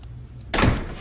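Wooden sliding barn door on a kitchen pantry rolling and bumping to a stop, one short, close thud after a brief quiet moment.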